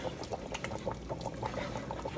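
Water pours steadily into a pan to make gravy for smothered T-bone steaks and pot roast, a soft continuous splashing close by, with no one speaking.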